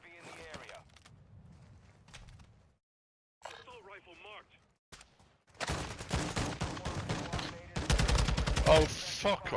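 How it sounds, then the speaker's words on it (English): Call of Duty DMZ gunfire: rapid automatic bursts crackle loud and close in the second half, following quieter scattered game sounds, with players talking over the action. "He shot you with my gun."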